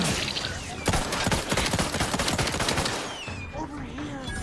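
Rapid pistol gunfire in the video game The Outer Worlds 2, a dense burst of sharp, loud shots for about two seconds, then fading into game ambience with faint voices.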